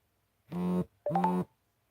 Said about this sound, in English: Getting a ton of notifications on my phone.